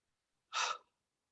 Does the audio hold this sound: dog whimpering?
no